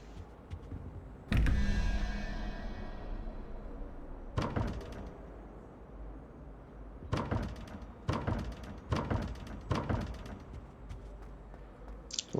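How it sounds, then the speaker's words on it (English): A locked door being tried in Hogwarts Legacy, heard as a solid thunk followed by several sharp rattling knocks in quick bursts, close and distinct against a quiet background. "Looks like the door is locked."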